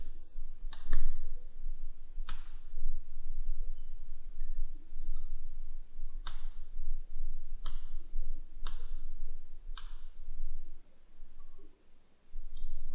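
Mouse clicks while configuring cluster disks in SQL Server 2008 software, sharp isolated clicks at irregular intervals, roughly eight in all, close and crisp over a low steady hum.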